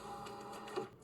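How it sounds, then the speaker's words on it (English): A printer whirs and clicks to life, faint, brief mechanical whirring with a soft rhythmic pulse and a small clunk near the end, alone without talk. "Audrey and Nathan are back at the station, and get jump scared by a printer."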